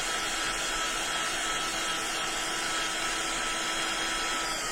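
Steady, even blowing roar of a heat tool drying paint and clay on a mixed media canvas, constant and fairly close with no pauses.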